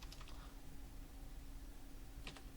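Quick clatter of keys being typed on a computer keyboard, a short burst at the start and another near the end over a quiet room hum.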